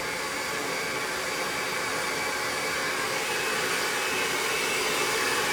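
A handheld hair dryer rough-drying hair during a blowout roars steadily and loudly throughout, a constant airy whoosh with no pauses and no voices.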